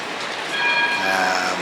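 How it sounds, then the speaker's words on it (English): Trams running through Strasbourg city centre, a steady loud rolling rumble with a rising whine and screech as one passes close by, with no talk. "these are the trams running through all the city centre"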